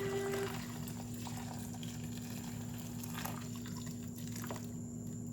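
Water poured from a large pitcher into a soil-block mix, giving faint trickling and dripping splashes over a steady low background hum, with no talking.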